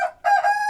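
A rooster gives a short, loud, close crow, a single brief burst on its own.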